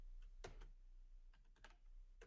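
Typing on a computer keyboard while coding JavaScript in VS Code: a few sharp, close key clicks in quick bursts, separated by short quiet gaps against a faint low hum.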